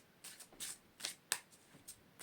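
A deck of oracle cards being shuffled by hand, with quick papery riffles and soft slaps in uneven bursts, close by and alone without talk.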